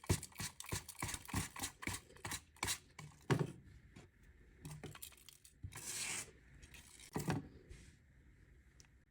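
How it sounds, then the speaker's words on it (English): A brush dragged repeatedly through the frayed ends of jute macrame cord for a witch broom craft: close, loud raspy strokes in quick irregular bursts, then slower, longer sweeps with pauses between. "flip it over, hold the other side, and brush the other ends out"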